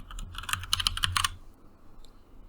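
Typing on a computer keyboard in writing software: a quick close burst of clacky keystrokes that stops after about a second, followed by quiet room tone.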